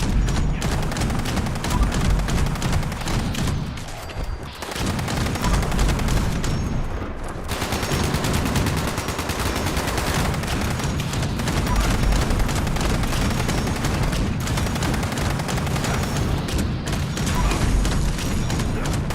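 Sustained rapid gunfire in the video game Fallout 76, loud and continuous with dense bursts of automatic shots and heavy impacts, briefly dipping around the middle before resuming at full intensity.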